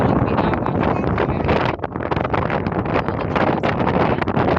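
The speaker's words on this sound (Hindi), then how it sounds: "बहुत ज़्यादा हवा चल रही है" Strong wind blows outdoors, roaring steadily and loudly across the microphone the whole time with gusty buffeting and no pauses.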